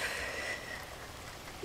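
Steady rain patters on a surface in a quiet indoor setting on a rainy day, a soft continuous hiss with no talking.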